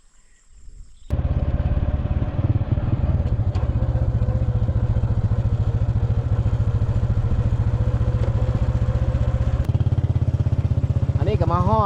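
A small motorcycle idles, then is ridden up a rocky track to a house entrance; its steady, close engine drone holds throughout with a brief shift in tone near the end.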